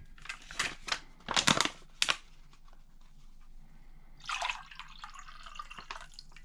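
Grape Kool-Aid drink from a 2019 Canadian MRE pouch poured into a glass: crinkling bag handling and clicks up front, then a close liquid splash and trickle.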